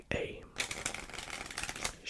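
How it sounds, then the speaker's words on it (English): Playing cards riffled and shuffled as a deck is reshuffled during a close-up card trick, a soft crisp fluttering run lasting about a second and a half under quiet speech. "shuffle"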